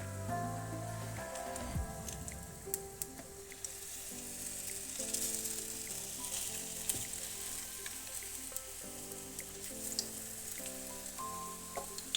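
Ukrainian pyrizhky sizzle steadily as they fry in a skillet, a continuous crackling hiss that runs the whole time beneath background music.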